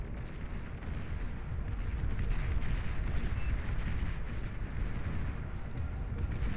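Pink bombers pounding an enemy base in the strategy game Beyond All Reason, a continuous roar of overlapping explosions and rumbling blasts, dense and loud throughout with no breaks.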